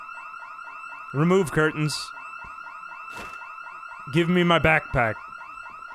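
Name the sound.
house alarm ringing in the video game Project Zomboid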